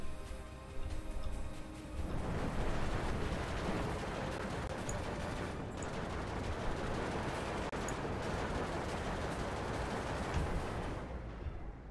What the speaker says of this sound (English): the fire support from the KV-85s down here are doing quite a lot of damage